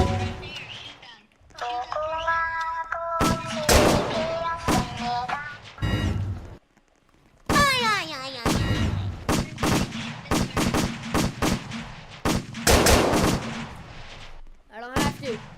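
Gunfire in the Roblox fishing game Fisch, a series of sharp loud shots in bursts with chaotic game audio and voices talking and shouting over it.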